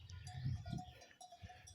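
A billy goat guarding sheep outside a pen in the Queyras mountains gives faint, distant bleats amid livestock noise, with a soft bell-like tinkle in the background.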